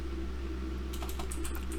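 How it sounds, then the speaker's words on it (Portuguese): Rapid keystrokes on a computer keyboard entering a Linux touch command on Debian, a quick cluster of clicky taps close up over a steady low electrical hum, with no talking. "se eu vim aqui digitar o touch e o nome do arquivo"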